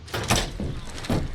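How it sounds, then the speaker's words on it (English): A zombie in State of Decay 2 pounds on a door, giving three heavy, dull thuds at an uneven pace, close and loud, with no voices. "Him beating on the door, not ideal."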